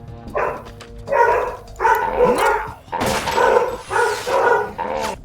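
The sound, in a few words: dog barking in Metal Gear Solid 2 video game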